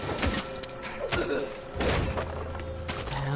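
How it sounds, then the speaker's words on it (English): Gunfire in the vampire action game Vampyr, a few heavy booming shots and thuds within a dense, loud mix of game noise and muffled voices. "What the hell gun was that?"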